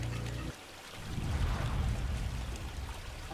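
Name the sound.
river water flowing in a cartoon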